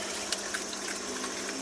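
An aeroponics system's water pump runs steadily at close range with a continuous spraying hiss of water, alone with no talk.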